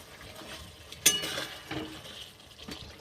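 A spoon stirs garam masala into a rohu fish curry in a pan, with a few soft scrapes and clinks against the pan in quiet surroundings and no talking.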